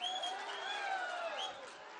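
A dense crowd at a packed political rally hall cheers and applauds steadily, a sustained wash of clapping and whistling voices that stays loud throughout and eases slightly toward the end.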